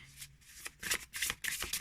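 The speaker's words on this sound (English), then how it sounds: "for now, for the shuffle part" A tarot deck with a plasticky coating shuffled by hand, giving several quick riffling bursts of card flutter in close succession, nearby and without talk.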